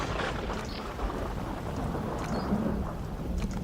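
Thunderstorm in the video game Jurassic Park Operation Genesis, with steady rain and low rumbling thunder under a constant wash of noise, fairly quiet, with no talking.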